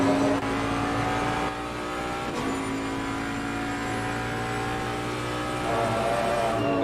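Race cars, including a Bentley, lapping the Misano GP circuit in Assetto Corsa Competizione, with a steady, loud engine drone at high revs, brief gear shifts and pitch changes, no voices.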